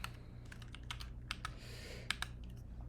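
Rapid typing on a computer keyboard, a quick irregular run of close, fairly quiet key clicks with brief pauses between bursts, and no voices.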